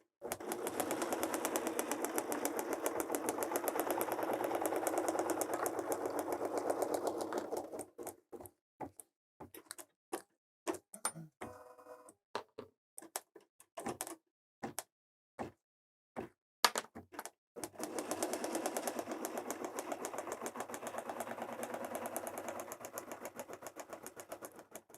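An embroidery machine stitches placement lines for cucumber eye patches on a Kimberbell project, a rapid steady whirring that breaks into a series of sparse clicks and taps midway before resuming its continuous run.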